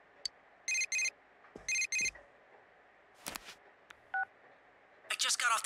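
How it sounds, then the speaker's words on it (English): Telephone keypad tones and ringing from the video game Persona 4 Golden: short paired dialing beeps, then a brief electronic ring, with a few clicks and bursts of other game sounds in between. "I just got off the phone with Chie."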